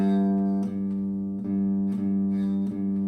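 A bass guitar sustains a single G note, a steady held tone with faint repeated string plucks roughly every 0.7 seconds, played alone in a lesson setting.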